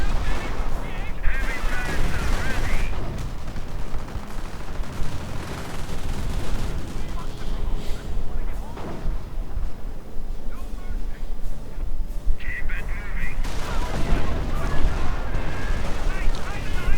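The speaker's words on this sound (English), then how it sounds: "Lots of fire, lots of doom. Mortars firing" Mortars and gunfire in the Men of War video game produce a dense, continuous din of booms and crackling shots, loud throughout, with a voice talking over the battle.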